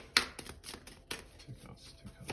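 Soft crisp flicks and slides of tarot cards being shuffled and drawn, a few quick close strokes with quiet gaps between them.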